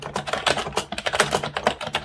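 Rapid clattering keystrokes on a Microsoft keyboard fitted with its armrest and extended feet, close and crisp, with an irregular burst of taps and no voices.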